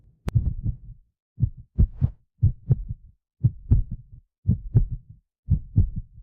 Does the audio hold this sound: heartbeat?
yes